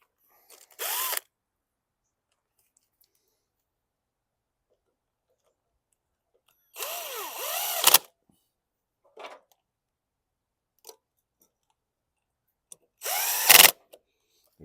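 Power drill driving out screws on a 2019 Yard Machines 300E push mower: three separate whirring bursts, each about a second long, with long silences between and a few small clicks of handling.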